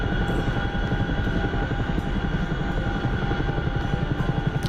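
Rhythmic rotor thudding and engine hum from a helicopter flying overhead, sustained and fairly close throughout, with no talking.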